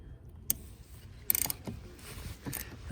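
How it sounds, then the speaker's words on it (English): A 10mm ratchet on an extension loosens the negative battery terminal nut of a 2015 GMC Sierra, giving a few quick, close clicking bursts with scattered metallic ticks between them. "Should be pretty easy just to ratchet this off."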